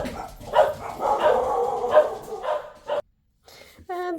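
Dogs bark inside a family home, a burst of loud, repeated barks and yips filling the room, with a brief silence before higher whining yelps return.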